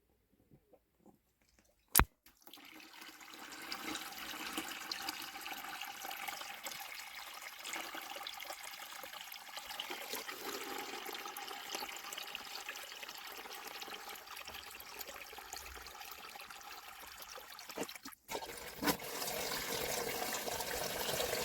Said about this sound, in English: I'm going to do a water change now.